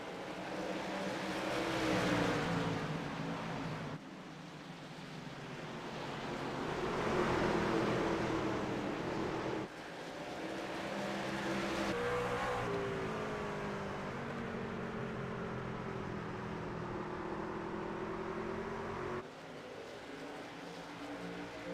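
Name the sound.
race trucks racing in a sim racing video game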